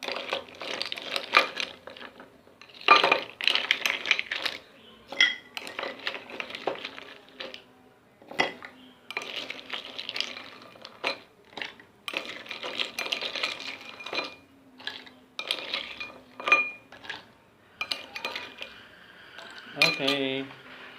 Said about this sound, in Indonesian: Kita kasih es batu sampai penuh.